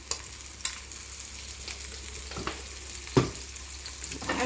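Boiled eggs roast in a pan with chili powder and salt, giving a soft steady sizzle with occasional sharper crackles and clinks of stirring, close and fairly quiet with no talking.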